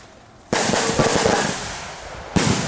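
Firework rockets set off as a sound effect, two bursts of loud crackling hiss: the first erupts abruptly and fades over almost two seconds, then a second starts sharply just after, with no talking.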